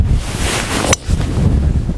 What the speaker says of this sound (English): it's a real strong headwind